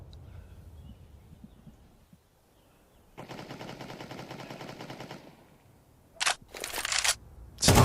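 AWP sniper rifle fire in Counter-Strike 2 on the Mirage map, with a sustained rattling burst of gunfire followed by several sharp, loud single shots near the end over quiet game ambience.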